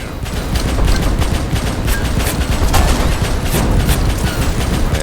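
Dense, continuous automatic gunfire from defensive turrets in the video game Abiotic Factor, rapid overlapping shots and booms at steady high loudness throughout, with no one speaking.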